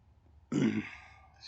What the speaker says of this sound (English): Burp.